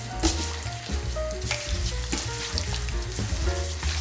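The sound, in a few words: stirring marinade for Korean fried chicken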